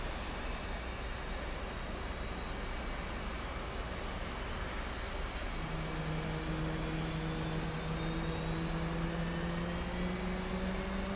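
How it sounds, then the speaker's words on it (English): A jet engine spools up in the DCS flight simulator, a steady loud turbine roar with rising whining tones that climb and multiply partway through, continuous and without talk. "Left engine start."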